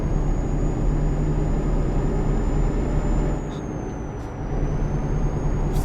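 Truck air brakes hiss in Euro Truck Simulator 2, a loud sustained pneumatic rush over a steady engine drone, easing briefly in the middle before the hiss returns, with no voices.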